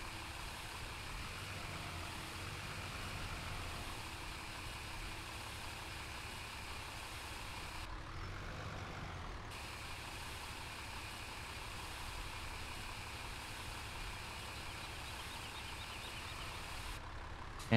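A tractor idles and rumbles steadily while backing a trailer straight in Farming Simulator 17, a continuous even engine drone with no pauses and no talk.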